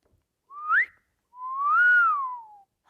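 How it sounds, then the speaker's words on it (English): A woman whistles between her teeth, impressed: a short rising whistle, then a longer one that climbs and slowly falls, close and clear with no talking. "Warber whistles between her teeth, impressed."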